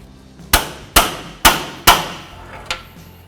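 A hammer strikes a pry bar set against a bushing four times at an even pace, each blow a sharp, close metallic clang. A fifth, lighter tap follows after a short pause.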